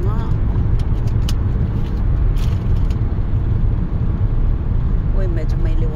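A car drives through a long tunnel, its engine and road noise forming a loud, steady low rumble that reverberates off the enclosed walls, with a few faint brighter tones near the end.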